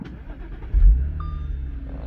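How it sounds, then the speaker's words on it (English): A 2014 Audi S5 engine turning over after a push-button start, with a low rumble that catches and settles into a steady idle, close by, and a thin electronic tone appearing partway through. "So upon starting the car"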